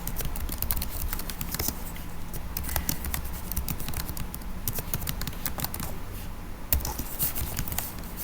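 Steady, busy typing on a computer keyboard while entering an address and zip code on a registration site, a dense run of close, crisp key clicks with one louder tap near the end and no talking.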